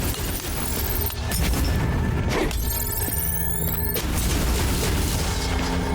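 Enemies firing on the player in the action game Asterigos: a dense, loud barrage of booming impacts and crashes runs continuously under sustained musical tones, with no talking.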